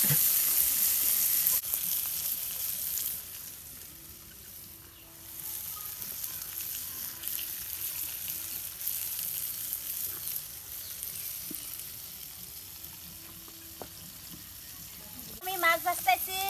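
Bata fish frying in a pan, a steady moderate sizzle running throughout with brief clinks near the end, heard alone.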